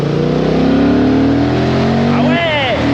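Honda Hornet 750 cc motorcycle on a race track, the engine loud and close as it revs hard with a steady rising whine, then drops sharply as the rider shifts before climbing again.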